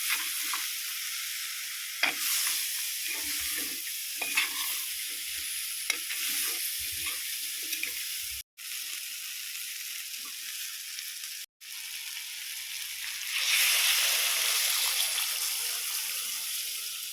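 Chilli powder and coriander fry for a village-style crab curry with a steady, close sizzle and occasional stirring scrapes in the pan, which swell into a louder hiss near the end, and no one speaks.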